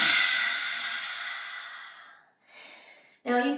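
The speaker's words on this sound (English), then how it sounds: "Now exhale through the mouth" A long, audible exhale through the mouth during a relaxation exercise slowly fades out, followed by a softer breath and then a sharper, voiced breath at the end.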